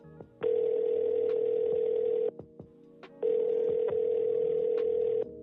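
A telephone call tone sounds twice as long steady electronic beeps, each lasting about two seconds with a short gap between, loud and close, with faint clicks around them.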